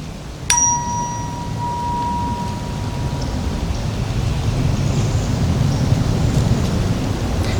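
A 963 Hz tuning fork is struck once with a sharp metallic tap and rings a clear pure tone that fades away over about three seconds, against a steady outdoor background hiss.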